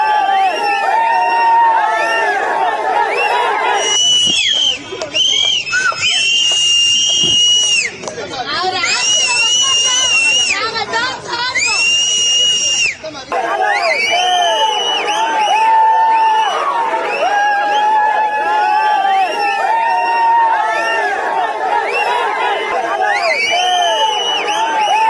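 Vijay supporters celebrating his election win in Chennai, Tamil Nadu: a loud, dense crowd keeps up continuous cheering, whooping and sharp shrill whistles for the full stretch, with a brief dip partway through.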